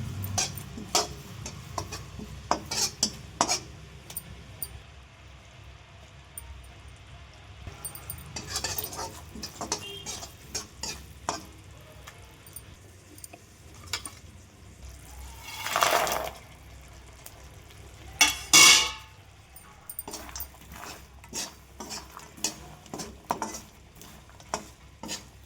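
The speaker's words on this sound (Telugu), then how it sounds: "ఆ పూల్ మకానాన్ని కూడా అందులో వేసేసి బాగా కలుపుకోవాలి" Fried makhana tossed with sesame and jaggery in a pan over low heat, a spoon scraping and stirring in irregular soft strokes with faint sizzling, quiet and close, no voices.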